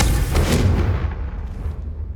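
A Confringo blasting spell cast at candelabras in Hogwarts Legacy lands as a deep, booming burst with a heavy low thud, then fades into a rumbling tail.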